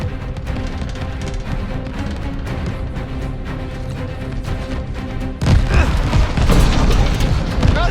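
Video-game tracer fire with explosions: a steady rumbling barrage of distant booms, then a sudden louder stretch of heavy blasts and crashing hits close by, with voices talking over it.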